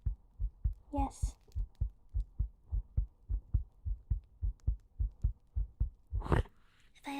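Quick, steady heartbeat thumps pulse in an even rhythm, about three per second, soft and close in a calm ASMR setting, with a brief breathy rustle near the start and again near the end.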